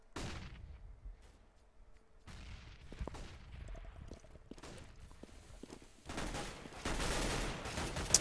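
Galil and AK rifles fire in a competitive video game match as a scatter of sharp shots and short bursts mixed with footsteps. The sound is fairly faint early on and grows into louder, denser firing near the end.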